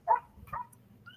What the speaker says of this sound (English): is that barking like really loud?